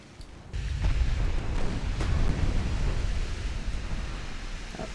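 Torpedoes launched in a naval warfare game, a sudden deep rumbling whoosh that swells into a sustained low roar of churning water and blast-like noise, loud and continuous, with no speech over it.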